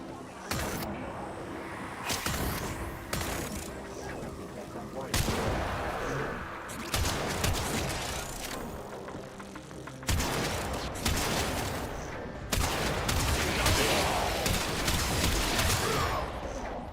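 Video game mission firefight with repeated bursts of gunfire and booming shots, loud and close, arriving in clusters every few seconds over a steady background of battle noise.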